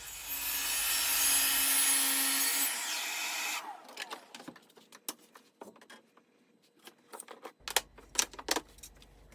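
A track saw rough-cuts wood pieces to size for a solid baby gate. Its loud, steady whine runs for about four seconds and then winds down, followed by scattered light knocks and clatter as the pieces are handled.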